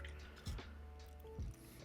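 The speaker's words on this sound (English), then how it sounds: "Then we're going to wash the brush." Paint brush being rinsed in a water pot while painting a miniature, two soft separate splashy dips with brief liquid swishes, quiet and close with no talk.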